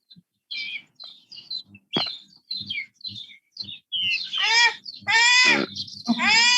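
Small pet birds chirp and tweet in bursts from close by, short calls at first growing into louder, fuller trilling song runs toward the end.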